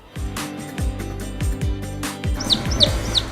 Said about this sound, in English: Now we have all the types of chicken.